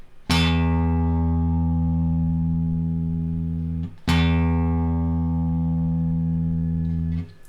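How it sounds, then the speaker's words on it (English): A guitar's low E string plucked twice, each note ringing steadily for several seconds before being cut off, clear and close with no talking. "Here's my E string."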